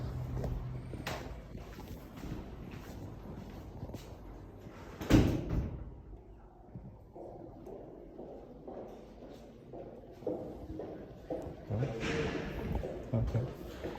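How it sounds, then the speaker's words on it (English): A door is pulled open and shut, giving one sharp knock or thud amid shuffling and handling noises, with a person talking nearby. "The door."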